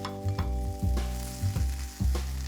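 Seasoned potatoes sizzle steadily in a hot pan while being flipped, with a bright frying hiss running throughout and a low hum underneath, no voices.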